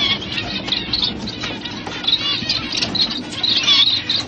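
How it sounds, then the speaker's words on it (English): A flock of Gouldian finches, colourful small birds kept for exhibition, chirps and twitters continuously close by, with thin, high, overlapping calls and a soft rustling under them, moderately loud and with no talking. "Very colourful, the Godian finch."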